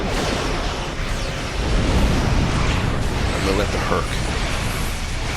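Rapid weapons fire and explosions from starships battling a Klingon battleship in a Star Trek space combat game, a dense continuous roar of booms and bursts under someone talking.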